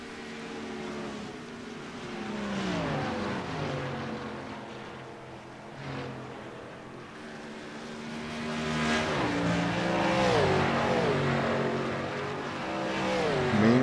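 Xfinity Series race cars roar around the track, engines rising and falling in pitch as they accelerate and pass, loud and continuous with overlapping cars.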